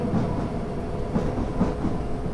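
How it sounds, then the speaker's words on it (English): A passing Train Simulator 2014 train, a Class 455 near Norwood Junction, gives a steady rumble with periodic clickety-clack wheel beats, close and moderately loud with no voices. "We got a train that's going right in front of us."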